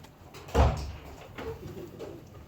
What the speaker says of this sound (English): Oh, I gotta close my door.